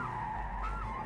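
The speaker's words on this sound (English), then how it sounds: "He oversteers at the corner entry, but clears it without a sweat." A race car's tires squeal in a sustained skid as it oversteers on entry to a corner, a steady high screech over engine rumble, close and loud.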